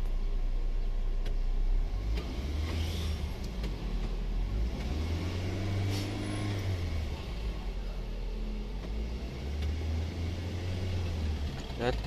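A car engine revs up and settles back repeatedly at close range, with rising and falling low rumbles and steady mechanical noise throughout, while a sensor reading is taken.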